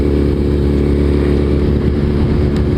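A Suzuki Hayabusa motorcycle ridden at low speed, its engine a loud, steady, close drone without break or talk.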